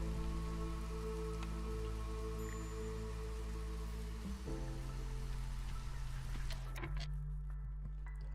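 Rain in the video game Against the Storm during the drizzle season: steady patter of drops on surfaces over a constant low hum, with the background tone shifting partway through.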